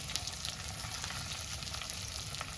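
Pieces of kati fish fry in a pan over a low gas flame, giving a steady, close hiss and crackle with scattered small pops, continuous and even throughout.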